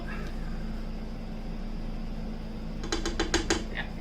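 An electric mixer whirs through cheesecake batter with a steady low motor hum, and near the end a run of quick clinking, rattling hits against the bowl stands out.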